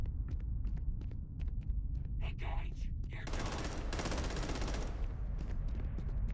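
Starfield video game gunfire: a rapid burst of automatic shots rattling for about two seconds amid scattered sharper single reports and a low rumbling background.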